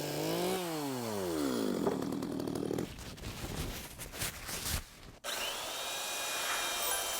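Chainsaw cutting into a piece of natural wood while splitting it in half and trimming away the outer wood. The motor whines up to pitch, then bogs into a rough cut that grinds and crackles, then returns to a steady idle.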